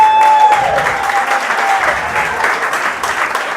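An audience claps loudly and steadily for a woman in the hall, sustained applause close up with a faint voice over it at the start.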